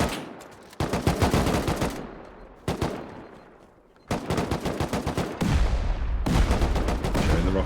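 Explosions and heavy gunfire ring out in a Rust tournament base raid. Loud bursts of rapid shots come in several dense waves with brief gaps between them, and they sound close and sharp.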